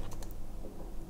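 Quick keystrokes on a computer keyboard, a short burst of a few sharp clicks at the start and then softer light taps over a low background hum.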